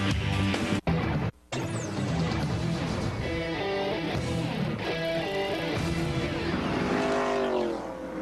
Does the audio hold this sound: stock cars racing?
yes